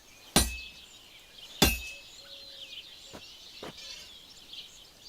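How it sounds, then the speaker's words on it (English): A blacksmith's hammer strikes a workpiece on an anvil in a video game, two loud ringing metallic clangs followed by two fainter taps against faint ambient bird-like twitters. "You've got to hammer the workpiece evenly. One hit next to the other."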